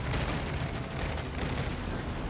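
A battleship blows up in World of Warships Legends, a loud, dense roar of rumbling explosion noise that fills the whole moment without letup.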